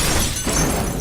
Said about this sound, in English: Including breaking more glass.